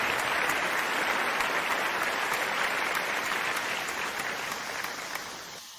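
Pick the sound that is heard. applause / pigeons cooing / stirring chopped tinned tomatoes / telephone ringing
applause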